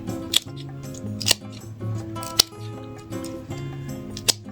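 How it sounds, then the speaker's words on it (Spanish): Pruning scissors snip away blackened, rotten parts of a plant in four crisp, separate cuts, close and clear over a steady musical background. "estoy cortando todo eso que está negruzco"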